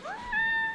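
A sick, homeless kitten gives one short, thin meow, rising and then holding a steady pitch, close and clear against a quiet background.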